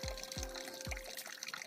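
Spring water from herb-rich oak and rhododendron roots pours from a pipe, a continuous splashing trickle broken by repeated low gurgling surges, close by with no voices.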